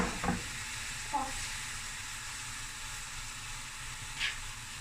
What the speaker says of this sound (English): my beef has pieces of fat on it in between, so that will render down as I'm browning it